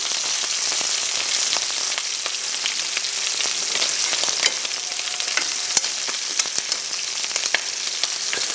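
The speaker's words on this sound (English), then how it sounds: "So cook it until it's golden and brown at the edges." Prawns fry in a pan with a dense, steady sizzle and crackle, punctuated by occasional sharp pops and stirring scrapes, loud and close throughout with no talking.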